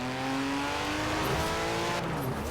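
Car engine in a video game, a racing car revving hard at close range with rising and shifting engine tones and a brief tire squeal, loud and continuous with no talk.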